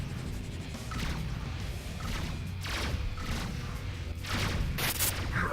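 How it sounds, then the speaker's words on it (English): Spaceship broadside cannons firing in the space combat game Rebel Galaxy, a dense volley of overlapping blasts and crashing impacts over a constant low rumble. "Broadsides."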